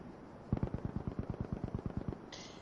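A grease gun in a video game fires a rapid burst of about fifteen evenly spaced, punchy shots lasting around a second and a half, moderately loud, followed by a brief higher electronic tone.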